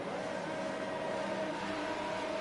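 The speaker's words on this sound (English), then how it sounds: "The drivers are revving." GP2 race cars rev their engines on the starting grid at night in Bahrain, a steady, fairly faint mechanical drone held evenly throughout.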